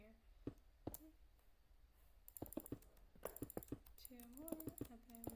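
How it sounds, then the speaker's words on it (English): A computer mouse clicks close to the microphone during a Minecraft creative session, giving sharp, irregular clicks in quick clusters, with faint background sounds between them. "You can hear the clicking from my mouse too"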